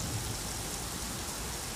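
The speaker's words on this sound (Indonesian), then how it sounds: "hujan yang mengguyur kota Jeddah, Arab Saudi membuat sejumlah ruas jalan terendam banjir" Heavy rain falls on Jeddah, Saudi Arabia, a dense, even wash of hiss with no break and no voices, steady at a moderate level throughout.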